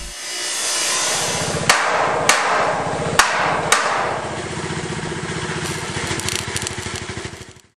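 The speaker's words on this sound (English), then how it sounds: "The generator provides for the electrical tools and light for the evening." A generator running at a rural school site, a steady loud pulsing mechanical drone punctuated by four sharp hammer-like knocks in the middle, fading toward the end.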